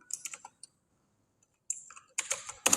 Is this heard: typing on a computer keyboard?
yes